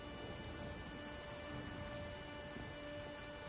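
Steady rain and a rumbling thunderstorm from The Witcher 3 fill the whole stretch as a dense, even wash of downpour with a low rolling undertone, no voices present.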